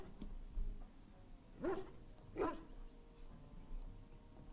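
A dog in Dragon Age: Origins gives two distinct barks with a slight whine, moderately near, against a quiet, steady game ambience with no talking.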